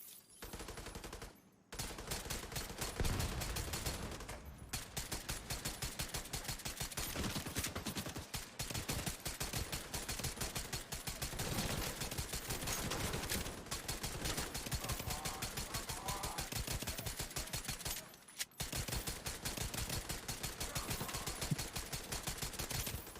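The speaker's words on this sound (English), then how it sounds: "Like I'm shooting him with a PP gun." A PP gun firing in Tom Clancy's Division 2: long runs of rapid, evenly spaced shots hammer away close and loud, broken by a few brief pauses between bursts, with faint mechanical clicks.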